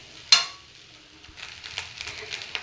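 A spatula clinks once against a pan, then cold rice is stirred with ghee, producing soft scraping and light sizzling patter that builds into uneven clicks and rustles.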